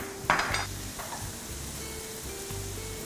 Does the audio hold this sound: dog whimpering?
no